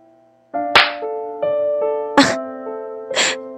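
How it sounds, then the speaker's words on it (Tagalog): Several sharp slaps across the face land at intervals, loud and close, each a crisp smack breaking through a held, ringing tone in an otherwise quiet room; no one speaks. "Bakit mo ako sinampal?"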